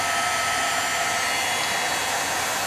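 A handheld hair dryer blowing over a homemade greeting card, a continuous close, loud airy whoosh with steady motor hum and no break or voices.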